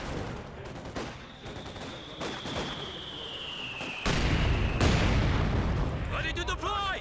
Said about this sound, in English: Mortars raining on the Volks Grenadier